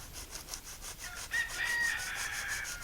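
Sandpaper folded over and rubbed back and forth in the carved grooves of a wooden non-returning boomerang, a steady close scratchy rasp with repeated strokes that grows a little louder partway through.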